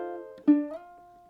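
A single plucked ukulele note slides upward in pitch from fret 2 and rings on, close and fairly soft.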